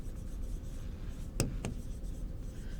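Marker or chalk scraping across a classroom board while a biology lesson is written up, two short sharp strokes standing out over a steady background hiss.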